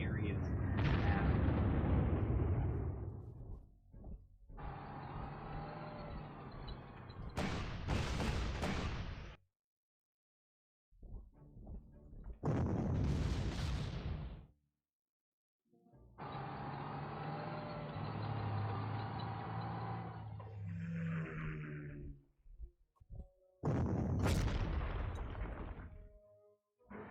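Bombing strikes in the Panzer Corps war game come as several loud booming blasts with separate rumbling explosive bursts and gaps of silence between them, alongside stretches of steady broadband noise.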